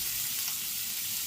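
Beef sausages browning in a pan give off a dense, steady hiss of fat sizzling, close and continuous with no voices.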